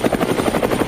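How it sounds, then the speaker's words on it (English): A helicopter sound effect: a loud, close, steady rotor chop with a fast rhythmic thumping that fills the short moment. "Helicopter sound effect? Anybody else hear helicopter?"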